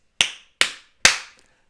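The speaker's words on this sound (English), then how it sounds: "I want you all to give yourselves 3 claps" Three sharp, dry claps ring out alone at a steady pace, each one a crisp slap with a short fading tail, as a live stream audience answers a call to applaud.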